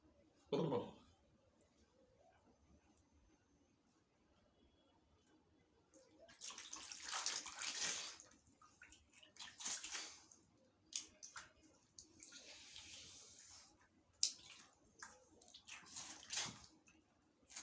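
Water splashing as a face is washed, soft intermittent splashes and wet squishes in bursts, close and fairly quiet, with a short sound near the start before the washing picks up.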